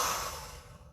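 A single breath is pushed out strongly through the nose or mouth during a Kundalini yoga exercise, loud at first and trailing off over about a second, with no talking.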